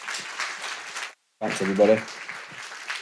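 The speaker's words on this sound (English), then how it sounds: "everyone's standing up applauding as well" Symposium audience standing and applauding at the close of a talk, a broad wash of clapping that stops briefly and then resumes under a speaker's closing words.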